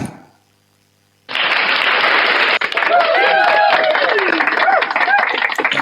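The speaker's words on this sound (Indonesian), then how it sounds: "Tepuk tangan, tepuk tangan." A live audience bursts into loud, dense applause after a moment of silence, sustained clapping with scattered cheers and voices rising through it until the end.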